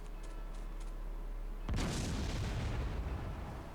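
A single shotgun blast in a video game booms suddenly, loud and close, then a rumbling tail decays for about two seconds, with no voices over it.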